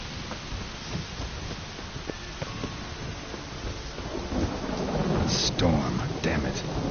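Thunderstorm with steady rain in a video game set outdoors, a low rumble of thunder swelling toward the end over constant broadband rainfall, with some faint voice-like sounds mixed in.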